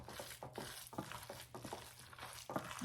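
Lasagna cheese filling being stirred by hand in a bowl, with repeated scraping and squishing strokes in a steady rhythm, close and moderately loud, no talking.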